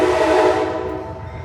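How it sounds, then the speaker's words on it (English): The Pere Marquette passenger train rolls past on its way toward Chicago, a loud sustained rumble with a steady tonal horn-like drone that stays close and fades slightly by the end. "Pause for the train. Oh, that would be the Pierre Marquette heading towards Chicago."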